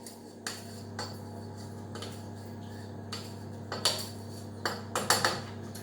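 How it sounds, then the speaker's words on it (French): A spoon stirring flan cream mixture in a metal pot, giving scattered light clinks and scrapes against the pot, sparse at first and then quicker, bunched knocks toward the end, over a steady low kitchen hum. "Donc je remue un petit peu."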